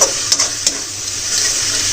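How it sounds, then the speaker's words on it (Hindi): Curry leaves tempering in hot oil alongside tomato, garlic, turmeric, chilli and spices give a bright, steady sizzle with a few sharp crackles early on, close and fairly loud with no talk. "मीठा नीम पत्ती के फोड़न"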